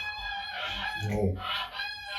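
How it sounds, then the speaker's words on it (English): Farmyard fowl call out in ragged, close honks and crowing cries over steady background noise, several overlapping calls rising and falling across the moment. "So you brought the geese in for a bit of authentic background."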